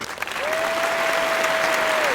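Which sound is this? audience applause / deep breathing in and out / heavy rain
audience applause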